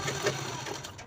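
Sewing machine running steadily as it stitches a cloth purse, a close, continuous mechanical whirr with light rhythmic ticking and no voices.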